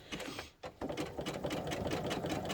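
A sewing machine stitching a fabric stocking-shaped cat toy, rapid rhythmic mechanical chatter close up, briefly pausing then running steadily again.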